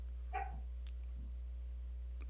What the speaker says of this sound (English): it sounded like a little dog barked at your house